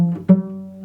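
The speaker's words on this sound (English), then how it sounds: "because a normal G note sounds like" Cello sounding a plain G note, bowed in short strokes with a fresh attack partway through, then sustained as a clear, steady tone up close.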